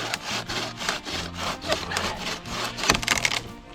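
A saw cuts through a piece of wood with steady, close, rasping strokes, each stroke repeating in a rough rhythm with no talking.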